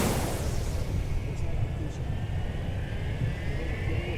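Ex-Northwest Red Tail airliner lining up on runway 12 right, its jet engines giving a steady, loud broadband roar with low rumble throughout, a faint rising whine on top, no voices.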